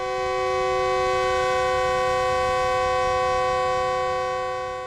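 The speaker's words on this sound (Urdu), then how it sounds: "اسی اثناء میں ریل گاڑی آئی" Steady, loud, multi-tone train horn held for about five seconds as a train arrives at a station, with low rumbling rail noise beneath and no voices.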